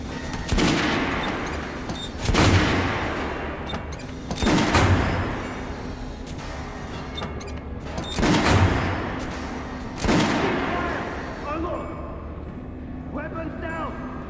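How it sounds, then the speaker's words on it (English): Guns fired on a shooting range in Metro Redux: a handful of loud, spaced bursts of shots, each followed by a decaying echo, with quieter gaps between. "Let's get you some guns. Take the ones you want and try them out on my range."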